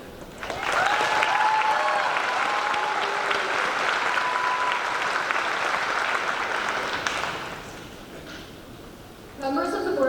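Audience applause at a 2025 high school graduation ceremony, a dense, steady clapping crowd that swells quickly and holds for several seconds before tapering, with a few scattered claps and voices near the end.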